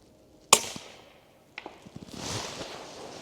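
A suppressed De Lisle carbine fires once with a sharp, muffled crack, followed by a fading tail, a few mechanical clicks and knocks from handling the rifle, and then a soft rush of noise, with no talking.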